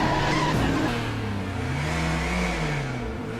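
A car speeds off to race in a TV show, its engine revving and tires squealing as it accelerates away, loud and close with a rising and falling whine.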